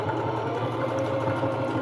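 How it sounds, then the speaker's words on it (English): A new home sewing machine runs steadily close by, a continuous whirring mechanical hum with a fast rhythmic needle chatter and no speech. "this is actually a new sewing machine I got a while back as a Christmas gift from my"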